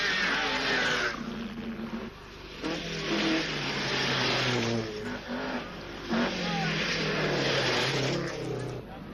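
Rally cars race flat out through a World Rally Championship stage at San Remo in 1982, engines revving and roaring close by in continuous waves, with a voice talking over the noise.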